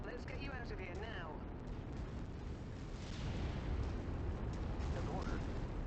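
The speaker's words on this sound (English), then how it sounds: "Got artillery coming down." Artillery shells land in a MechWarrior 5: Mercenaries battle, with continuous rumbling, booming explosions that thicken and grow louder in the second half of the barrage.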